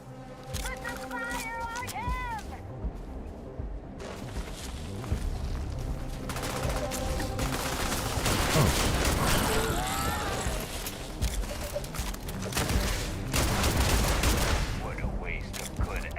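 Gunfire in the space game Starfield, dense bursts of shots and booms mixed with music and effects, loud and continuous through the whole stretch.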